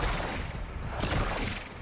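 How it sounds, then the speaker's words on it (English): Rapid bursts of weapon fire from an Ivara build in a shooter game, dense overlapping shots rolling loud and continuous with a sharper crack near the end, no talking. "See what I mean? Just quick shots."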